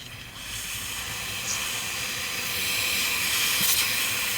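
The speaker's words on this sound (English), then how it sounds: "by literally spraying steam at a high pressure, you can actually clean the air vent system out" A high-pressure steam cleaner blasts steam into a car's air vents while detailing, giving a steady, loud, broad hiss that holds throughout and swells slightly toward the end, with no voices.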